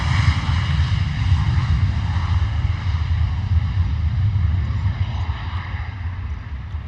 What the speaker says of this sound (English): A little mini Gulfstream